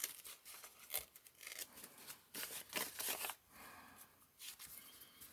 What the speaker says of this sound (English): I'm going to have to tear off some more